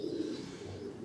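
Ember pigeons in a breeding loft giving a low, throaty coo, one soft rolling call held briefly and heard close with no talking.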